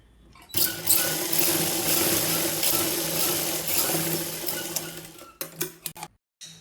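A sewing machine stitches a tuck in a saree blouse with a steady close whirring run of about five seconds, then slows into a few separate bursts before stopping.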